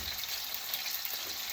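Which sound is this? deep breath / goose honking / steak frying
steak frying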